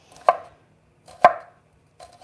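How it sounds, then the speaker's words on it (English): Small shallots being sliced into rings with a knife on a board, two crisp distinct chops about a second apart with a fainter third starting, close and clear with no talk. "I'm just going to chop up these shallots into rings"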